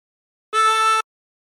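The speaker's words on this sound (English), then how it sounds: "Breathe in through 3 and bend the note to produce A." A single harmonica draw on hole 3, bent down to the note A, sounds as one clean, steady reedy tone held for about half a second, close and alone.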